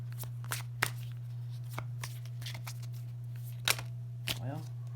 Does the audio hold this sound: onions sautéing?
no